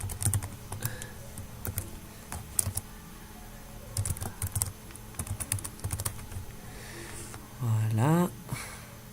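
Keys on a computer keyboard clatter in irregular bursts as email addresses are typed, crisp close clicks with pauses between runs, and a short rising whirr briefly cuts in near the end.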